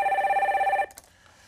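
A telephone rings steadily and loud in two-tone bursts on a radio call-in show, then cuts off abruptly partway through as the line connects, leaving a faint click and quiet.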